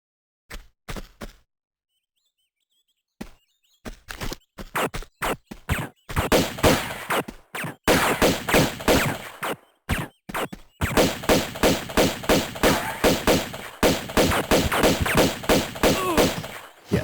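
Rapid pistol gunfire from Tomb Raider 2 Remastered, beginning as scattered single shots after a silent gap and then turning into long, steady, evenly paced volleys, loud and close, with no talking.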